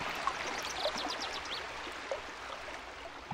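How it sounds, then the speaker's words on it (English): In the fantasy video game Sorcery!, a waterfall plunges over a sheer cliff, a soft, continuous rushing wash of water with faint bird-like chirps on top, steady and distant. "the water plunges over the edge of a sheer cliff and disappears"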